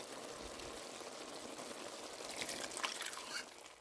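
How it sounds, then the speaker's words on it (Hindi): Half a cup of water poured into a pot of chicken and eggplant curry, a steady broadband splashing pour that swells louder toward the end, alone with no talking. "और इस टाइम मैं इसमें हाफ कप पानी शामिल करूँगी"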